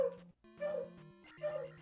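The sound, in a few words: barking dog in the room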